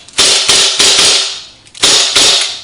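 Unloaded airsoft pistol fitted with a homemade compensator dry-fires five times in a loose rhythm, each a sharp, loud, close snap with a short hissing decay and a brief pause before the last two shots.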